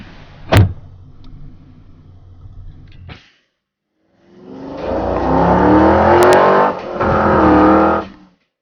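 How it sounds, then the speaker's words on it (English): A van door bangs shut, followed by a quiet pause, then the engine starts and the van pulls away, a loud close rising drone that shifts up through the gears before cutting off. "Let's go for a ride. Get in the van."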